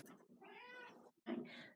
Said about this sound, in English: there's a cat at the door, so I gotta let him in